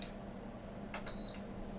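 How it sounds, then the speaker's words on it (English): A single high electronic alert beep, short and fairly faint, sounds from a Kalorik Maxx air fryer set to air fry, over a low steady hum. "sometimes it's nice to hear the alert"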